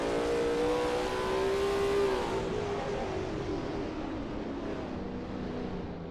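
A Lola T70 MkII Spyder race car engine on the Riverside track in a racing game, holding a loud droning pitch, then dropping and easing off as the car settles into a lower steady tone.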